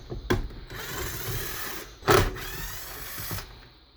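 A power driver whirs in short bursts while backing screws out of a Traxxas X-Maxx RC truck, close by, with a brief louder grinding spin in the middle and faint handling noises between.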